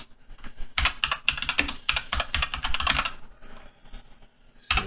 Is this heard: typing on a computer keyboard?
yes